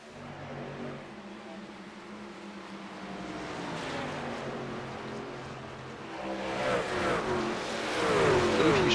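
Race cars in an RPES Pavement Elite Series race at Charlotte Motor Speedway drone side by side, their engine whine building and rising in pitch as they accelerate, growing louder toward the end.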